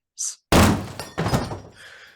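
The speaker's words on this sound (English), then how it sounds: "the dog leaps through the door, smashing it to splinters" A door is smashed to splinters: a brief high crack, then a heavy loud thunk with splintering noise, a second crashing impact, and debris trailing off.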